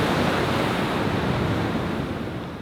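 Ocean surf washing onto a beach, a dense continuous roar of breaking waves with wind noise, loud and steady, no voices.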